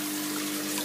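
Water pouring from a bulkhead fitting into a solids pre-filter of a backyard aquaponics system, a steady, close rushing flow with no pauses.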